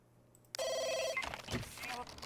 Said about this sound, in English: Even with the cell phones, the landlines go off.